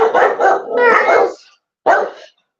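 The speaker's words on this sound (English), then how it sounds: "they hear your doggies barking" A pet dog named Bam Bam barks at a lively Christmas party, giving a quick run of loud, close barks and yips, then a pause and one more sharp bark.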